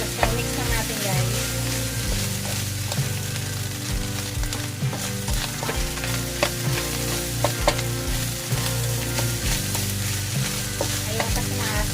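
Ground beef sizzling loudly in a frying pan while being stirred, a dense continuous crackle with scraping and clinking from the utensil against the pan, close up throughout.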